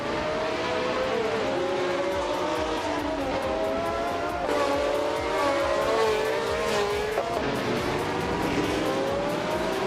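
Race cars in a video game, led by a 1971 Brabham BT 3-4: a continuous loud engine drone with pitch rising and falling through gear changes and cornering, several cars overlapping, no voices.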